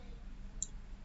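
A single quick mouse click, faint and close, over a quiet room hum.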